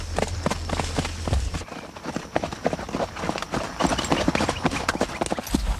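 Hooves of a mule moving in the smooth marcha gait, a quick steady clip-clop of footfalls on the ground, close and continuous for the whole stretch, with faint voices in the background.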